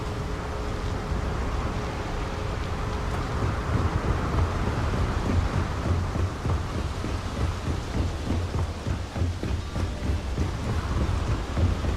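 Thunder rumbles through a lightning storm around the city of Neon in Starfield, with steady rain and wind, a dense continuous roar and low booms spread across the whole stretch.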